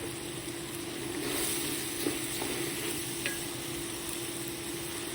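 Rice sizzling in a pot with onions, a steady frying hiss with faint occasional stirring clinks, close and continuous.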